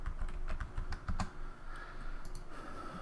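Clicky computer keyboard keys tapped in quick bursts at close range, then slowing to a few isolated presses over a steady room hum, no speech.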